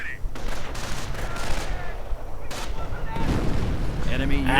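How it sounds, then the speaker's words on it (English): Howitzer artillery and other gunfire in a World War II strategy video game battle rumble in a steady barrage of heavy booms and rattling shots, loud and continuous throughout. "Howitzer firing away once more."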